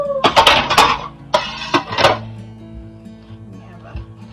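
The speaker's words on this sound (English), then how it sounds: "take your spatula and run it around the bottom of the pan just to help release it" A metal spatula scrapes and clanks around the bottom of an angel food cake pan in a few short, loud, close bursts, then the sound fades into quiet room tone.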